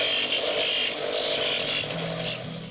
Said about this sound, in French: Et après on va la polir